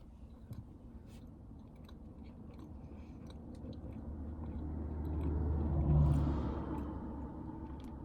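Close, soft chewing of an apple cinnamon oat cake eaten in a car, quiet moist mastication over a low rumble that swells briefly before fading again.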